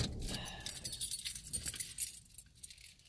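Keys jangling on a ring with a Vanellope Von Schweetz keychain, a close, bright metallic rattle in shaken bursts that settles into lighter clinks, with no talk.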